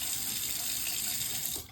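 Water runs steadily from a newly installed Moen bathroom faucet into the sink, a close, even hiss and splash that cuts off sharply near the end, with no one speaking.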